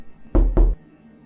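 Two heavy knocks on a wall in quick succession, close and dull, set against near silence.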